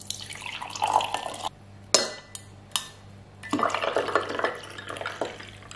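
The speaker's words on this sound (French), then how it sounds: "je vais peut-être rajouter des glaçons aussi" Ice cubes go into a glass of iced matcha tea, sharp clinks and knocks breaking through a bed of running water and watery clatter, several distinct hits in a loose irregular pattern.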